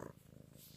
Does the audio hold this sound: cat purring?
yes